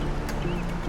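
Ambient wildlife in the open world of Assassin's Creed 4, with bird calls and quacking fowl over a steady outdoor bed, broad and continuous with no clear single caller.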